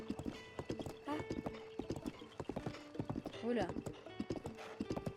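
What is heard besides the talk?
horse hooves and neighing in the video game Zelda Breath of the Wild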